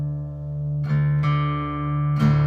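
A low D string in drop D tuning rings steadily on guitar with rich overtones, re-plucked a few times and left to sustain alone.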